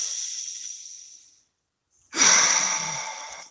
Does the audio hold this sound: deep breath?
yes